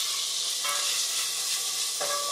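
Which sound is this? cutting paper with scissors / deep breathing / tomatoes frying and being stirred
tomatoes frying and being stirred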